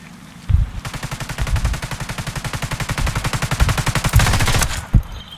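Loud sustained automatic gunfire in the video game Ghost Recon Wildlands, a rapid even burst of shots lasting several seconds, ending with a heavier boom.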